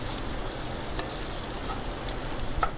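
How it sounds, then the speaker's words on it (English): Beef frying with garlic and onion in a pan sizzles softly and steadily, with occasional scrapes and stirs from a spatula, faint and close. "the juices from the beef is helping my garlic and onion not burn"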